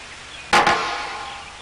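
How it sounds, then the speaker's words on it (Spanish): A heavy object dropped onto a floor at Cambridge University gives one sharp, loud impact, then a quick echoing repeat and a fading reverberant tail in an otherwise quiet room. "Lo que oyeron, claro, es el eco."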